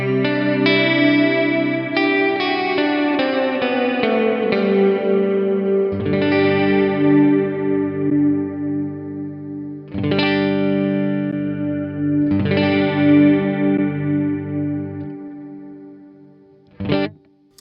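Guitar played through a Valeton GP-5 processor with long, heavily modulated reverb trails, strummed chords swelling into chorus-like shimmering tails that hang and decay between strikes, with a final short burst near the end.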